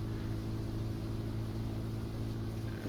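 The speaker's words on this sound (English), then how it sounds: "I believe we have Alicia out plowing this with her big red tractor." A big red tractor plows a field in a farming video game, its engine a steady, continuous low drone that holds even and unbroken throughout, with no talk over it.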